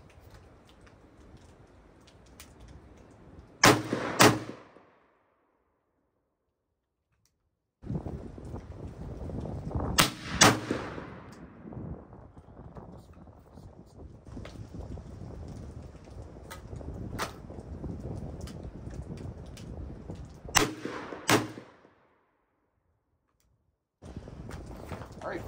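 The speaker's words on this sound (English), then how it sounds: "That is the Stoeger Coach Gun. Just a little fire for effect there, just to see how it works." Shotgun blasts from a Stoeger Coach Gun side-by-side coach gun fired outdoors, loud sharp reports in separate bursts, some in quick pairs, with wind noise buffeting the microphone between shots.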